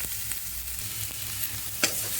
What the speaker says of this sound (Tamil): இது 2ஐயும் சேர்த்து நல்லா ஒரு 30 செகண்ட் மாதிரி நல்லா கலந்துக்கோங்க